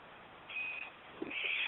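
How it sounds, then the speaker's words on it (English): Hotel fire alarm sounding indoors, a thin steady electronic tone that starts partway through and returns louder near the end, with a faint short knock in between. "they decided to set off the fire alarm while I'm talking with you"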